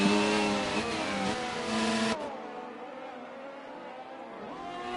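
A race car engine in a racing video game on the Belgium track, revving loud and steady with a high harmonic whine, then dropping sharply in pitch and load as the car runs onto gravel and the engine keeps droning.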